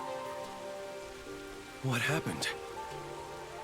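Steady rain falling in the video game Master Detective Archives: Rain Code, a soft continuous patter under quiet background music, with a brief spoken line partway through.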